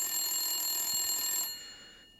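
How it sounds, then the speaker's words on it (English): A telephone rings, a bright buzzing bell tone held for about a second and a half and then cut off, leaving a short fading tail in a quiet room. "phone's ringing"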